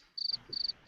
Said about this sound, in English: Crickets. Where's the crickets?